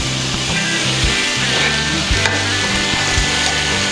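Macaroni pasta stir-fried on high flame in a pan with masala, onion, tomato and spinach: loud continuous sizzling with repeated scraping and stirring strokes close by.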